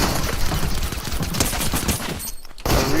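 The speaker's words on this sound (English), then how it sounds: "See if I can get him eliminated pretty quickly with this suppressed pistol." Rapid bursts of suppressed pistol fire in a Fortnite match, a dense run of sharp shots that stops briefly near the end before picking up again.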